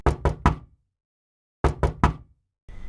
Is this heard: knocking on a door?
yes